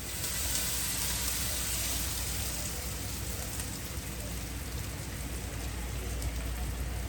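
Sesame seeds crackle and sizzle while tempering in hot oil: a steady, dense hiss with fine popping that stays even throughout, fairly close and moderately quiet.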